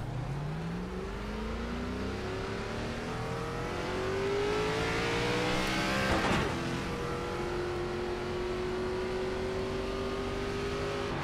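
An ARCA Menards Series race car in iRacing at Pocono runs steadily as the engine climbs through gears, with rising whine sweeps, a louder surge near the middle, then a sustained drone at speed; no talking.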